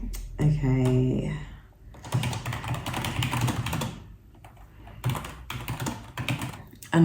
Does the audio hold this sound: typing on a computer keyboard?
yes